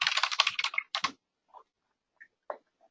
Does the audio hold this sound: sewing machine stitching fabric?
no